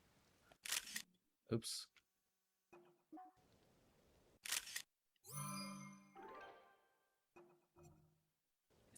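The in-game camera in The Legend of Zelda: Tears of the Kingdom fires several crisp, sharp shutter clicks spaced a few seconds apart. A brief spoken word and other game sounds come in between.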